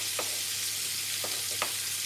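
Red onions hit hot butter in a pan, giving a steady close sizzle with a few brief crackling pops spread through the short stretch, no voices.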